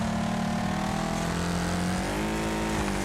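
Race car engines in the Wreckfest video game, a loud, close, continuous engine drone with a strong low buzz and a slight downward pitch shift as the car brakes.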